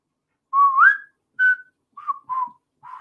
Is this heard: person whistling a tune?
yes